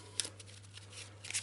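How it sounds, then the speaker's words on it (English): A deck of Eldritch Horror expedition cards being shuffled, quick papery riffles and flutters in two short bursts at the start and end, close and crisp over a low steady hum. "We'll give it a quick shuffle and then we'll cut it"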